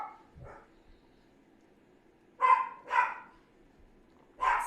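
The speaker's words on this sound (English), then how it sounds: "The dog is barking." A dog barks in three sharp, loud bursts close by, with two softer yips or whimpers first and quiet background between them.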